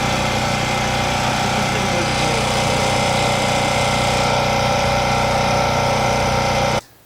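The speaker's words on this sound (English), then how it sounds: "The second downside of a generator is obviously they produce noise." An RV generator engine at a campsite drones steadily and loudly close by, with a constant mechanical hum and no talking. It cuts off abruptly at the very end.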